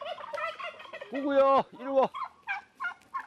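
Turkeys and chickens on a hydrangea garden farm gobble loudly and repeatedly as they rush toward their owner, with bursts of gobbling and clucking close by while a man calls to them.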